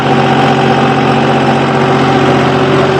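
A John Deere tractor engine runs at a steady, loud idle close by, with a constant low throbbing drone and vibration and no speech.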